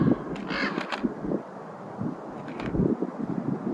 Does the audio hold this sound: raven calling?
yes